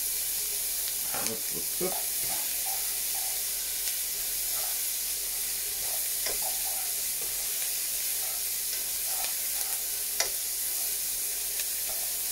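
Roughly chopped onion and garlic fry in fat alongside thyme for a pork roulade, giving a steady close sizzling hiss with occasional stirring clicks, while a voice speaks briefly over it.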